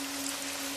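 Steady rain falls as a soft, even hiss, quiet and unbroken over a short stretch, with no voice present.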